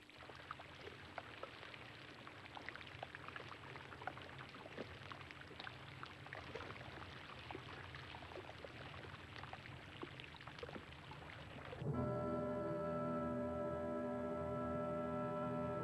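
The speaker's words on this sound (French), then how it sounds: "bruissement ténu, il est dû à l'explosion d'innombrables petites bulles d'air, celles que contenait cette glace" Faint, dense fizzing crackle of countless tiny air bubbles bursting from melting ice that formed under high pressure at great depth, a steady patter of tiny clicks that gives way to a smoother, fuller hiss near the end.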